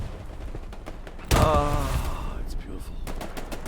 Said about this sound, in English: they get hammered down by MG fire from somewhere up there in the woods